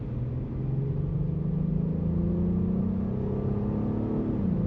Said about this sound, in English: Let's see how the road noise is on this vehicle.